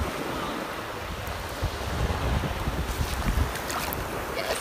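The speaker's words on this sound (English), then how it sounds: "Yes, waves." Ocean waves wash in close by, forming a continuous rushing surf mixed with steady wind buffeting the microphone.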